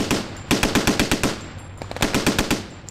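Rapid bursts of machine gun fire ring out during NATO maneuvers near Narva, Estonia, on the Russian border, loud, sharp rounds in quick rhythmic volleys with a short pause between two strings of shots.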